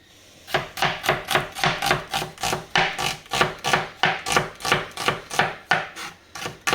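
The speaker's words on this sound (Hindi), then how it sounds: "मेरी दोस्त प्याज काट रही है।" Onions chopped for spinach pakoras, a knife striking a cutting board in a steady run of about fifteen crisp, evenly spaced chops, close and fairly loud with no talk.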